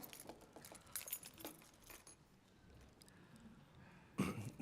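Keys jingle and clatter in short bursts while caught on a pair of reading glasses, close but faint in a quiet church meeting room, ending with a louder rattle.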